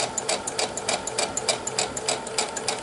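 A sewing machine stitching pinned cotton quilt pieces, a fast steady mechanical chatter of needle strokes with a light rattle, close and continuous without talking.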